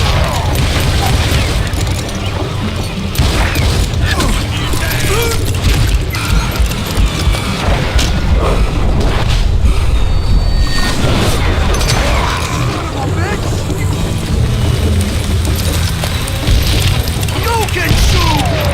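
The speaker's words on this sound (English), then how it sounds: "Boom! I got a lot more dynamite than you!" Dynamite explosions in Call of Juarez: Gunslinger boom repeatedly through a dense, loud Wild West gunfight, the blasts mixed with clattering debris and constant battle noise.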